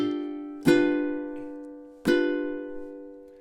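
A ukulele plays two down strums at the 2nd fret of the A string, from measure 8 of a song; two bright, ringing chords sound alone, evenly spaced and left to decay, with no voices.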